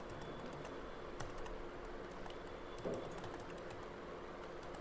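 Data goes into an MS Word table on a computer keyboard as a steady run of quiet, close key taps in irregular bursts, with one slightly louder press midway and no talking.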